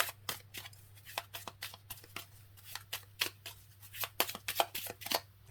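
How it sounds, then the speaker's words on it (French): Oracle cards from a Starseeds deck are shuffled and drawn, a quick run of crisp, close papery riffles and flicks, alone and fairly soft. "je vais vous sortir pour terminer quelques petites cartes des Starseeds"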